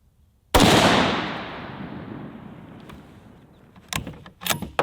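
A single loud rifle shot fired at a target through a scope, sharp crack with a long decaying echo, followed by a few faint clicks and handling noises.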